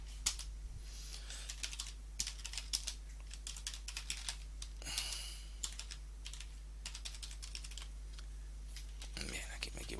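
Fast, uneven clicking of keys on a computer keyboard, a continuous run of light taps over a low steady hum, with a faint voice now and then.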